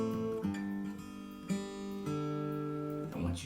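A strummed acoustic guitar chord rings out with a deep low E string fretted at the third fret underneath, struck several times in succession and left to sustain.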